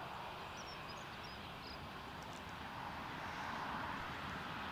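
An EasyJet airliner at Newcastle Airport gives a steady, distant jet roar that swells slightly toward the end, with faint bird chirps early on.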